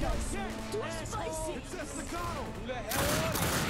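Rapid bursts of gunfire from The Darkness 2 crackle continuously, overlaid with warbling, voice-like tones, and a denser volley erupts near the end.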